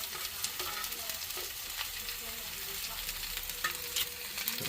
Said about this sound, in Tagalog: Nagisa na mga idol ang pako.